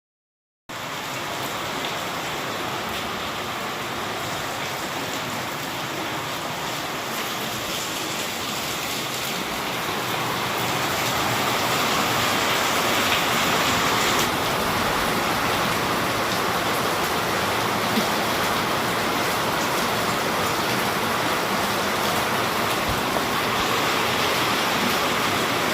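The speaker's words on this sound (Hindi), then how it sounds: "सुबह सुबह आपको दिखाया बारिश हो रही थी, बहुत अच्छी खासी बारिश हुई है" Heavy rain pours down in a dense, unbroken hiss that grows fuller and louder about halfway through and then holds steady, with no voices over it.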